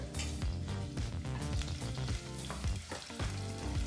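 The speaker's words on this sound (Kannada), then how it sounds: "ಈ ರೀತಿ ಚಿಕ್ಕದಾಗಿ ಕಟ್ ಮಾಡಿದಂಥ 1 ಈರುಳ್ಳಿನ ಹಾಕಿ 2 ನಿಮಿಷಗಳ ಕಾಲ ಮೀಡಿಯಂ ಫ್ಲೇಮ್ನಲ್ಲೇ ಇದನ್ನೆಲ್ಲ ಫ್ರೈ ಮಾಡ್ಕೋಬೇಕಾಗತ್ತೆ" Finely chopped onion frying in a pan on medium flame for pulao, a dense continuous sizzle with occasional stirring scrapes, close and steady throughout with no talking.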